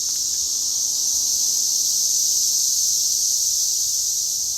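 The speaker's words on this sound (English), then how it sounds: "there was 10 million cicadas all screaming the song of their people when I opened the door" Dense, shrill drone of a huge cicada swarm by a lake at sunset, an intense continuous high-pitched buzzing that fills the whole stretch with no pause, loud and close, with no voices.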